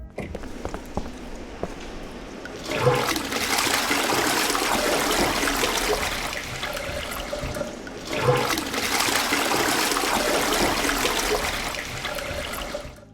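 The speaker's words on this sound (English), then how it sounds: "If you flush a toilet, there is a chance that this will happen." A toilet flushes twice in the Darkenstein 3D video game, each a loud rushing, gurgling surge of water that swells, holds for several seconds and drains away, with a quieter water trickle between the flushes.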